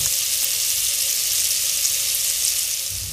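Strips of sliced beef sizzle loudly in butter in a pan while being stir-fried for a steak sandwich, a dense continuous hiss that fades slightly at the end, with no talking.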